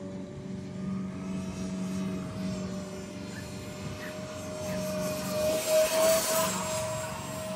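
An F-35 radio-controlled model jet with a 70mm electric ducted fan flies overhead, a steady high whine with a sustained tonal hum that swells louder as it passes closer near the end, with no talking.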